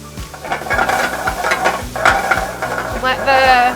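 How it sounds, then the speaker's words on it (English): Red wine splashed into a hot pan beside a seared filet steak, a loud, steady sizzle with scraping and stirring knocks underneath, close up and without talk. "you're gonna take a little bit of red wine, swirl your pan"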